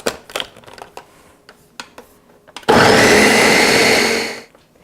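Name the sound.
blender pulsing peach mixture for sherbet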